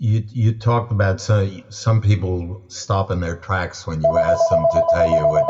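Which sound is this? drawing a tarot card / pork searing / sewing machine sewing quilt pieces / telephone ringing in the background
telephone ringing in the background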